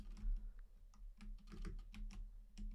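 Keys clatter on a computer keyboard in quick, uneven bursts of close, crisp clicks over a low background hum, with no voices.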